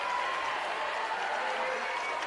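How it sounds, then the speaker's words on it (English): Western Christian fans cheering during a girls' state volleyball quarterfinal, a steady, dense crowd roar filling the gym, sustained and loud throughout with no distinct pauses. "Western Christian crowd trying to get back on their feet and fire up their team"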